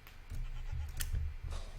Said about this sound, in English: We have goats in the place.